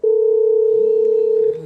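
Steady telephone dial tone heard while placing a call, a single loud continuous hum lasting about a second and a half before cutting off, with no talk.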